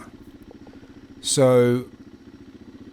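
A Suzuki DR650 motorcycle's air-cooled single engine putters steadily at idle, a low rhythmic thump throughout, briefly covered by a louder rising tone in the middle; someone talks over it.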